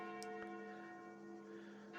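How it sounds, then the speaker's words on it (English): Church bells ring at noon in the horror dating game Sucker for Love: First Date, sounding as a sustained, resonant peal with layered overtones that continues steadily throughout. "Sound like the church's noontime bells."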